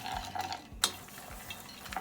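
A spoon stirs toasted nuts, peanuts among them, around a pan. Near scraping and rustling carries a faint sizzle, with one sharp metallic clink partway through, and no speech.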